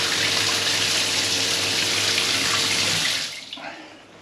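Water runs steadily down a bathroom sink drain during a plumbing test, a loud, even gush for about three seconds that then tapers off and fades as the flow stops.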